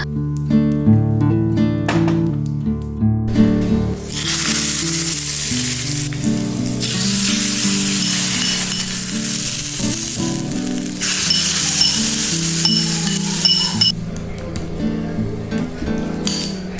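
Steady crackling sizzle of cumin, dried chili, asafoetida and curry leaves hitting hot mustard oil, loud and close, with a few light metallic clinks and stirring sounds throughout.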